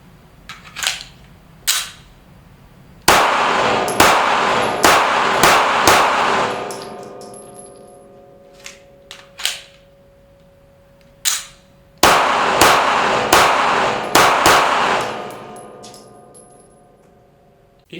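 Gunshots from a SIG Sauer P229 pistol at a range, two separate strings of sharp, loud reports fired in quick succession, with isolated single shots between them and metallic clinks in the gaps.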